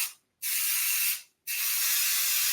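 Spray adhesive sprayed from a can onto cardboard in two long hissing bursts with a brief pause between them, close and steady, with no talk.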